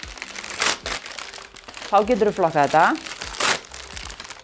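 Composite plastic-and-paper packaging crinkles and crumples in a few close bursts, with a person speaking over and between the rustling.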